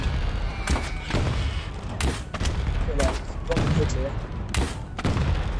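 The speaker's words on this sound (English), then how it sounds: "I think that blew up without me actually hitting it there" Wooden barrels blow up in a Steam VR archery game on the HTC Vive, giving a series of sharp, separate blasts and thuds spaced about a second apart. A brief spoken word comes in partway through.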